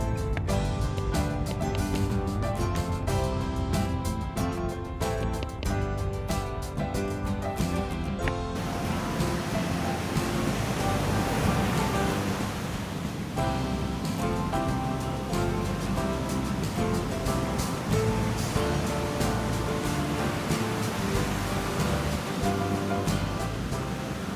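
Waves wash onto the Black Sea shore in Bulgaria as a continuous broadband surf hiss, steady and moderately loud throughout, with music-like tonal bands layered over the first part and no talk.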